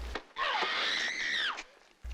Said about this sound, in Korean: 엘리자베스가 가까스로 비명을 질러 자신의 위치를 알리고